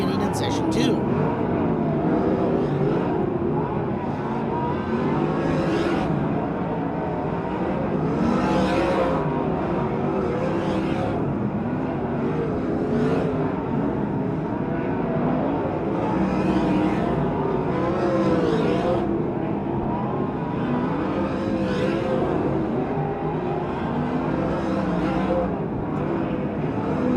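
Race cars lapping at Grays Harbor Speedway during a NARC event produce a continuous engine drone with repeated swelling pass-bys, heard under nearly constant commentary.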